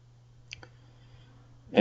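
A computer mouse gives a couple of quick, faint clicks close up in a quiet room over a low steady hum, followed by a brief louder noise at the end.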